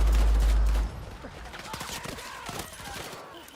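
Submachine gun fire in the Battlefield 6 video game, a loud sustained burst at the start that cuts off abruptly, followed by scattered distant shots and game ambience under talk.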